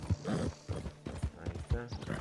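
Horse in the video game Red Dead Redemption 2, with close hoof clip-clops in an uneven rhythm and a brief whinny-like sound, heard alongside a voice talking.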